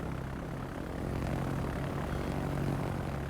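A propeller plane drones steadily with a dense, even roar in a World of Warships naval battle, with no voices.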